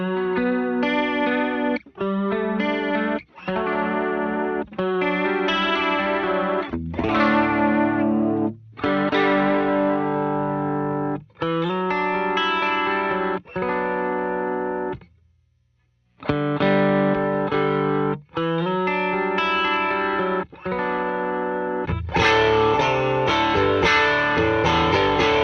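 An electric guitar played through a Warm Audio WA-C1 chorus vibrato pedal with wet effects, loud sustained chords shimmering and wavering, broken by brief gaps and one longer pause before brighter strumming resumes.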